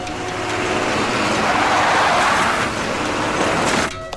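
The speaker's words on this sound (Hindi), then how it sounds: "बॉस व्यान आ गई।" A van pulls up nearby, its engine and road rumble rising to a loud broad roar and then cutting off abruptly, with no voices over it.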